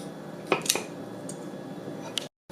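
Green beans set onto a plate during plating of steak with Bordelaise sauce: a couple of soft clinks of utensil against dish and a light scrape, close and quiet with no talk, ending in a short silence.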